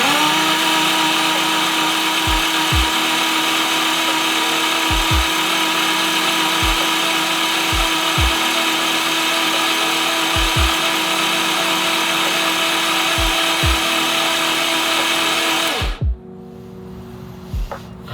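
Starter motor repeatedly cranking a Subaru EG33 flat-six that will not fire, a steady loud whir with periodic compression thumps for about sixteen seconds before cutting off abruptly.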